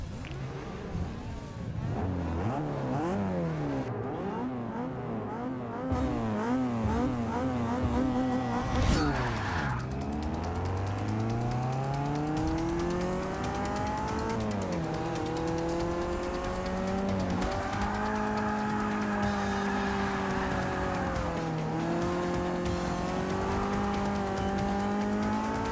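Racing cars roar through Forza Motorsport 6, engines revving up and down with swooping pitch changes, tires squealing and skidding, one car loud and close throughout with a sharp impact partway through.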